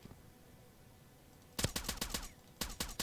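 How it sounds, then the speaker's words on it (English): Suppressed gunfire in the Roblox shooter Phantom Forces: quiet at first, then a quick burst of several sharp muffled shots, a brief pause, and a second shorter burst close up. "That's a sick suppressed gun."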